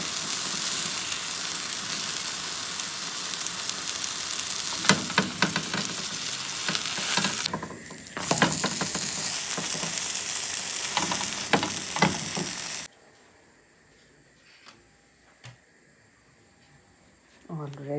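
Ghee sizzles and fries in a hot pan as naan is warmed, a steady close crackle with stirring and clatter under a talking voice, then cutting away to near quiet with faint background sounds.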